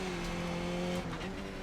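Sim race car in iRacing, a Skip Barber car, drifting around a corner, its engine droning steadily while the tires squeal under load, close and continuous with no talking.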